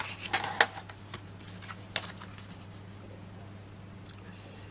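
Card paper being cut during a card-making craft session, a few close crisp snips and rustles early on, then quieter handling while a person talks in the background.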